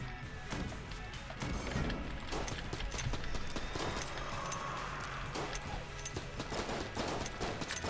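Rapid gunfire from a piercing gun in the roguelike video game Enter the Gungeon, a dense run of quick shots mixed with clattering impacts and busy game effects, loud and continuous throughout.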